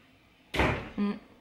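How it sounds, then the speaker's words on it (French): An indoor door gives a sharp thump as it is opened and then a brief creak, two quick sounds close by. "on va ouvrir la porte"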